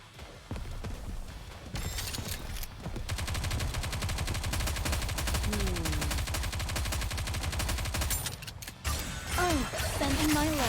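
Rapid, continuous gunfire from the video game Nikke: Goddess of Victory rattles loudly over game music and effects, with brief pauses and rising electronic tones near the end.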